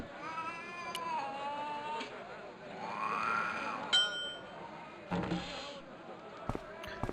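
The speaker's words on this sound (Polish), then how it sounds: "Jak gdybyśmy przestraszyli kota i nacisnęli dzwonek." A startled cat meows and yowls in the Broken Sword video game, followed by a few sharp knocks and a bell-like ring over quiet background ambience.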